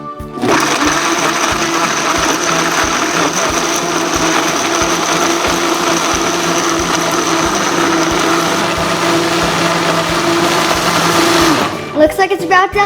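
A blender mixes a smoothie in a loud, steady whir that runs for about eleven seconds and then cuts off abruptly, leaving a little clatter.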